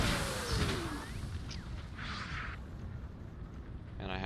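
Cannon artillery fire in the Napoleon ACW video game: a booming blast with a whooshing tail and scattered distant battlefield rumble, fairly loud over a dense background.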